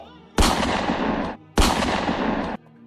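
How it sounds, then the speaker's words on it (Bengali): Two loud, close gunshot effects fire about a second apart, each a sharp blast with a long roaring decay, as an execution-style shooting to the forehead in a dramatized Bengali story, with no voices over them. "আরিয়ানের কপালে শুট করে পরপর দুটো গুলি করলো।"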